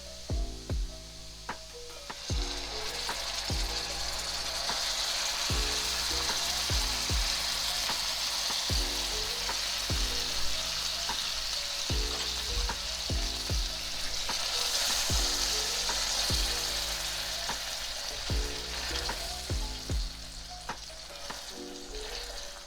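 Tomato sauce sizzles steadily in a frying pan while garlic pasta is cooked, a continuous loud frying hiss broken by repeated clicks and taps of stirring throughout.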